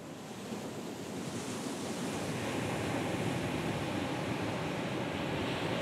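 Sea waves wash onto the northeast coast of Brazil at São Miguel do Gostoso in a steady roaring hiss of surf, with wind buffeting the microphone and no voices.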